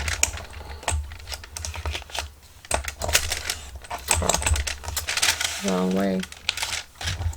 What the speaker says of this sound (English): I'm going to shred this noisy envelope right about there on its line.